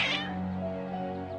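Several cats meow and caterwaul in Genshin Impact, the agitated cries stacked close together in a continuous, fairly loud stretch with a sharper yowl at the start and another at the end.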